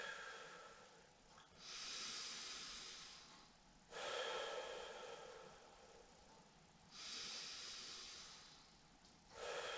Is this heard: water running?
no